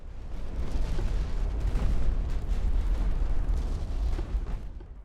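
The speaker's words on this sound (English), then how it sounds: "Let's focus our main guns on them." Heavy naval gunfire rumbles from a battleship's main guns in the game Ultimate Admiral Dreadnoughts, a dense, booming roar of overlapping blasts that swells and fades over several seconds with no talking.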